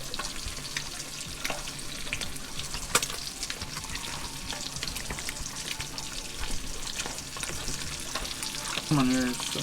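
Fish sizzles and crackles steadily in a pan at a truck-tent campsite, one sharp clank partway through and a brief voice near the end.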